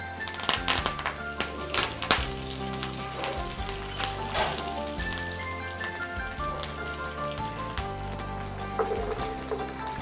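Mustard seeds, cumin, fenugreek and garlic fry in hot oil, a dense crackling sizzle with popping bursts that continues throughout, close and fairly loud, with no talk.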